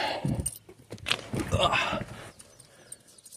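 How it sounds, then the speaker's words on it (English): Car keys jangle as they are pulled from the trunk lid lock of a Mk3 car, a bright metallic rattle in short bursts over the first two seconds, fading into quieter handling noise. "Pull my keys out."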